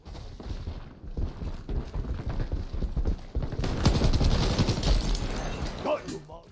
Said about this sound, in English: I heard the enemy's footsteps miles away